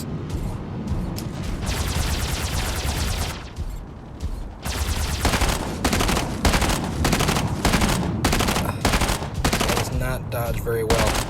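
Rapid bursts of automatic AR weapon fire from mechs battling in the game Mech Arena, loud and close, repeating in dense volleys with brief pauses between strings of shots.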